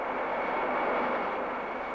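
Steady, loud roar of a black reconnaissance jet powered by a refurbished J-75 engine with its afterburner removed, a continuous close broadband rumble with no voices.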